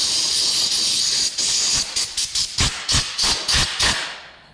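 An air hose blasts dust off a freshly sanded wooden picture frame in a shop, starting as a loud continuous hiss and then breaking into about eight sharp, close bursts.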